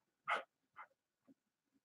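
A dog gives one sharp bark followed by a smaller bark and a couple of soft, fading yips, each short burst set apart by silence and heard fairly close.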